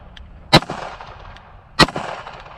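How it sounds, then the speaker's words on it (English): Two sharp, loud rifle shots from a Bear Creek Arsenal Grizzly BC 101 fired outdoors at steel targets, spaced a little over a second apart, each with a short ringing tail and no talk. "Had to take a couple shots at him"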